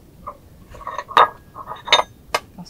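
Nice dishes clink and chink as they are handled, a few short, sharp knocks scattered irregularly over a quiet background.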